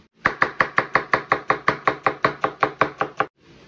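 A knife chops white onion for beef puchero, about sixteen crisp, evenly spaced strikes on a cutting board in a steady quick rhythm, close and loud, with no voices.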